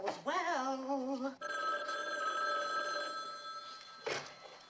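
A telephone bell rings in a home, one long warbling ring followed by a steady, bright tone and a brief final burst, fairly close and clear with no talking.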